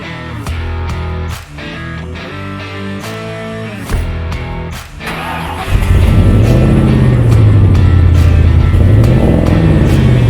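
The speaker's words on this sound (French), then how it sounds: "on va mettre le pick-up en chauffe et puis direction Brico Dépôt" A pick-up truck engine warms up on a cold day, first with rhythmic clattering and knocks, then settling into a loud, steady idle rumble with a slowly wavering pitch, close by and with no voices.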